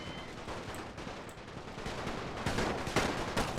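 Continuous WWI gunfire from a battle in The Great War mod for Total War, a dense crackling fusillade of rifle and machine-gun fire in the distance, growing slightly louder with sharper volleys near the end.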